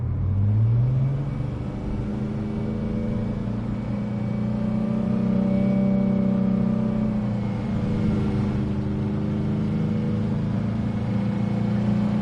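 A car engine in Cyberpunk 2077 drones steadily as the vehicle drives, a low rumbling hum with slowly shifting pitch and a brief rev at the start, close and continuous with no talking.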